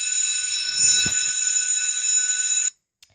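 An electronic school bell rings in a high school, a loud continuous buzzing tone holding for almost three seconds before cutting off abruptly, with a faint thump partway through.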